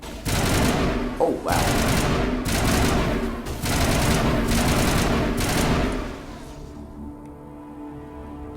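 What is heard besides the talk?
gunfire from the video game Mass Effect Legendary Edition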